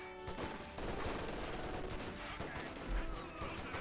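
Machine guns rattle in a Company of Heroes 2 battle, steady rapid bursts of gunfire layered with occasional heavier thumps, loud and continuous throughout, with a voice faintly underneath.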